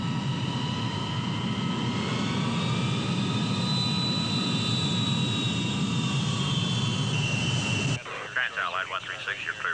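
A jet airliner taking off, its engines holding a loud, sustained roar with a rising whine layered over it, then cutting abruptly to quieter cabin-like noise near the end.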